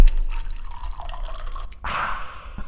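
Whiskey poured into a glass, a brief close liquid splash and trickle after a quiet stretch of room noise, with no talking.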